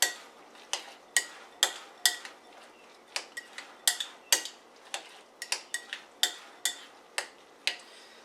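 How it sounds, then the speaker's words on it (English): A spoon stirring a creamy low-fat sauce made with nutritional yeast, repeated sharp clinks against the pot in a steady, fairly quick rhythm, close and clear with no talking. "you keep stirring it up, and now this is really, really creamy"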